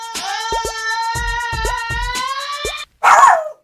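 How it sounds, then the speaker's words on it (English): Several dogs barking repeatedly in a steady, agitated run over a high whining or siren-like tone, stopping briefly before one final sharp yelp or howl. "the dogs are going crazy"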